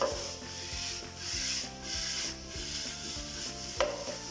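Boiled noodles get tossed and stirred in a hot pan, giving a rhythmic scraping and rubbing with a faint sizzle underneath and one sharp clink near the end, no voices.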